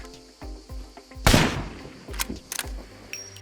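A single loud Mosin Nagant rifle shot from the video game SCUM cracks out sharply, with a brief echoing tail, set among quieter rhythmic low thumps and clicks.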